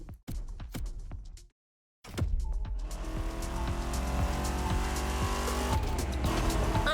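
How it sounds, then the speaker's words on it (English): Rumbling growl of a 1960s car engine in The Crew Motorfest racing game, a short burst, a brief silence, then a sustained steady engine drone with clicking transients over it. "you can hear that growl of that motor, too"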